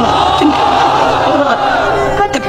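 A large crowd of unmarried men roars a takbir chant in unison at a religious gathering, a loud, dense wall of massed voices sustained throughout.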